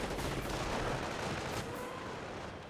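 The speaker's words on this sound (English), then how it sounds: "Nebulwarfer firing a barrage there" A Nebelwerfer rocket barrage fires in Company of Heroes, a World War II strategy game: a dense continuous roar of launches and distant blasts that fades slightly toward the end, with no talk.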